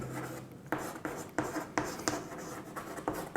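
Chalk or marker strokes scratch across a board in a classroom-style lesson, with short rhythmic scrapes and taps repeating every fraction of a second, close and clear with no talking.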